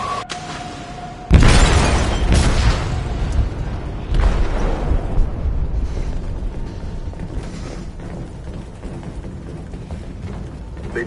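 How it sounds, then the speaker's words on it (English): In the video game Detroit: Become Human, a loud explosion tears through a ship's hold with a sudden sharp blast, followed by a long rumbling roar and crashing debris that slowly fades over about ten seconds. "They detonated an explosive in the hold"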